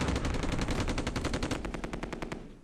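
Machine gun fire in the World War II game Close Combat II: a long, rapid, evenly spaced burst of sharp cracks that stays loud throughout, then tapers slightly near the end.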